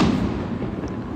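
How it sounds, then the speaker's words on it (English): A loud firework bursts close by, a dense booming blast that rolls on for about a second without trailing off, with no voices over it. "oh, dang, that was a loud firework"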